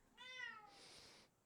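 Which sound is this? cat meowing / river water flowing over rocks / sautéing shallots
cat meowing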